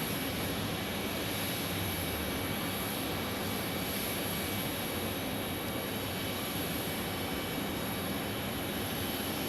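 A Boeing 777 jet at Phoenix Sky Harbor airport gives a continuous, loud roaring drone with a steady high whine on top, unbroken for the whole stretch, with no voices.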